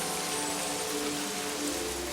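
Steady rain pours down in a dense, even hiss that never lets up, loud and enveloping, with no voices.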